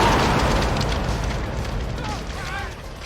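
A huge 3D movie explosion from the climax of a Nightmare on Elm Street film roars at full loudness, a broad booming blast that slowly decays into rumbling debris with faint whooshing tones near the end.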